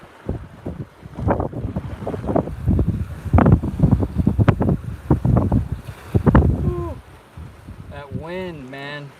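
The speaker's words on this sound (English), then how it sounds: "That wind is going crazy out here." Strong gusts buffet the microphone outdoors on a lake during tiger muskie fishing, roaring in uneven surges, with someone talking throughout.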